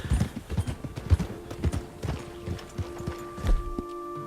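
A Nokota horse, a white roan, walks along a coastal trail in Red Dead Redemption, its hooves clip-clopping in a steady, close rhythm with soft ambient game sound underneath.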